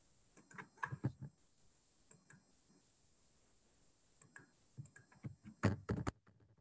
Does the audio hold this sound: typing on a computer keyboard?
yes